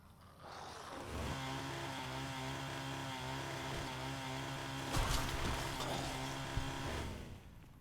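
A chainsaw in Fallout New Vegas runs in a loud, steady buzzing drone for several seconds, surging louder around the middle before settling again, with no talk over it.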